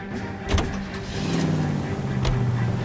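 A car in the 1940s-set crime game L.A. Noire starts up and pulls away, its engine droning steadily with a brief door-like thump early on, close and continuous throughout.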